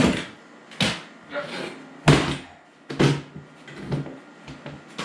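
A Mastercraft folding steel work table flipped over, giving a series of loud metallic thunks and clanks spaced irregularly, close by with no talking.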